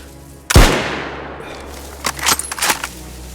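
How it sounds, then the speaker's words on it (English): Gunfire in the DayZ video game during a winter sniper match: one loud, close shot, then a scattered burst of quieter, more distant shots about two seconds later. "Someone's shooting at him from behind."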